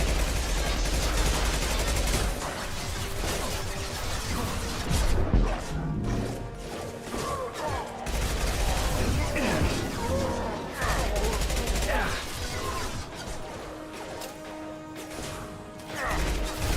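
Gunfire from a Mass Effect 2 battle plays at length: repeated crashing shots and bursts of rapid fire, with loud, busy impacts and brief lulls.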